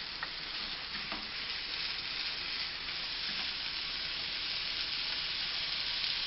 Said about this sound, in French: J'ajoute mes 200 grammes de viande hachée.